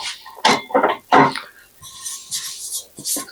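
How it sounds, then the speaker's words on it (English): A metal pan is pulled out and handled in a kitchen while making hors d'oeuvres quiche, with a few short clanks and scrapes of cookware following a brief stretch of louder handling noise. "let me get a pan."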